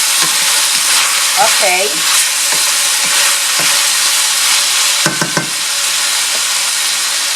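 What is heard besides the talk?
pork cooking covered in a pan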